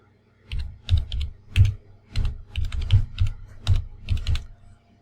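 Someone types a restore point name on a computer keyboard in Windows: close, crisp keystrokes in quick uneven bursts with short pauses between words, alone without talk.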